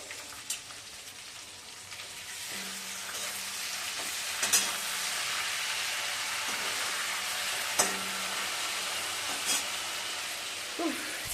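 Fish spatters and sizzles in hot cooking oil, a steady close frying hiss broken by occasional sharp pops and faint clinks in the background.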